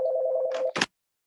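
A phone rings during a meeting, a steady electronic tone with a warbling pulse that ends in a short burst of noise, then silence.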